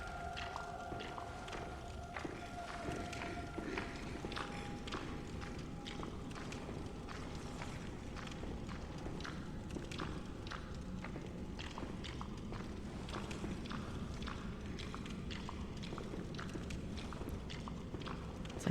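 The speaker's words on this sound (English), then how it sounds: "I hear disturbing footsteps" Footsteps in the video game Bloodborne, a steady run of soft, wet, squishy steps at walking pace, moderately close, continuing evenly throughout with no voices.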